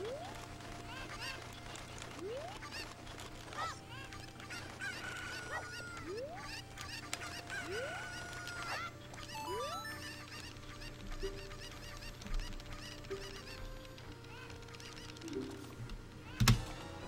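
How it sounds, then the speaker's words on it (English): A chicken in a Zelda-style dungeon video game squawks and clucks repeatedly against a busy layer of game music with sliding tones, ending in a sudden loud hit. "This chicken is so squirmy."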